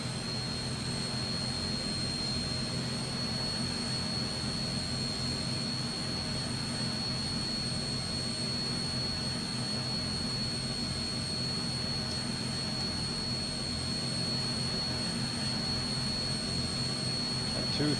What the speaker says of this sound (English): Starting engine number 1.